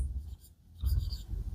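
A marker or chalk scratches across a classroom board during a maths lesson, two short bursts of writing strokes separated by a brief pause, fairly quiet and with no talk over it.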